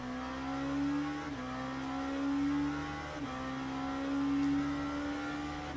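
A race car engine in Le Mans Ultimate holds a loud, steady drone from start to finish. Its pitch climbs gradually through the gears, and two quick gear shifts break it into three rising stretches.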